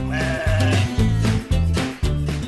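Sheep bleat repeatedly at Bukit Domba Sentul farm, several close, loud, wavering calls following one another in quick succession with no talking.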